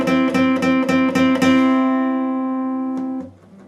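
Guitar repeatedly picking the same two barred notes on the G and B strings at the fifth fret, a quick run of bright, even strikes that then rings out and fades, close and clear with no talking.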